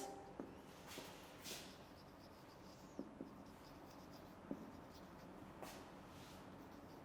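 Chalk or marker writing a definition on a classroom board during a chemistry lecture, soft scratchy strokes with a few sharper taps, quiet and steady over roughly seven seconds with no talking.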